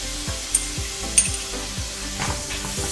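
Onions sizzle in melted butter in a pan, a steady close frying hiss with periodic scraping stirs and a couple of sharp utensil clicks.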